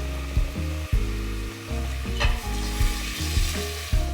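Beef stock, tomato paste, whole garlic cloves and ketchup go into a hot pan and sizzle hard. Close, steady frying is broken by a series of sharp knocks and scrapes as the mixture is stirred.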